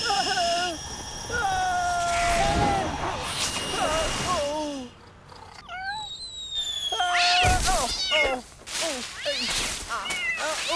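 A cat meows repeatedly in a sequence of clear, rising and falling cries, some loud and close, with brief gaps between them and other voices and background sounds mixed in.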